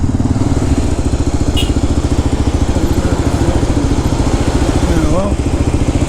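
Kawasaki KLR 650 motorcycle engine running steadily up close on a road in North Sumatra, a continuous low pulsing throb with an even rhythm throughout.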